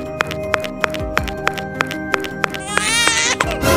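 A newborn baby abandoned in bushes cries in a brief, wavering wail near the end, under a steady ticking pulse and sustained musical tones.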